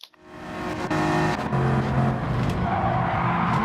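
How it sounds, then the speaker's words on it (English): In Gran Turismo 7, a pack of race cars, a Veyron among them, lose control and crash, with tires squealing in long skids over roaring engines, loud and sustained with a few sharper impact bursts. "Look, there's a crash, basically."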